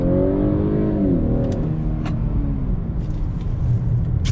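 A 2021 Honda Accord Touring accelerates under throttle through a turn, heard from inside as a loud, steady engine drone with rising tone at first, plus road rumble and a few faint clicks.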